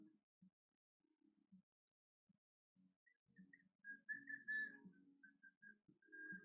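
Faint, thin whistling drifts in during a livestream on a headland, wavering melodic notes that grow a little stronger toward the end, with soft low murmurs and knocks underneath.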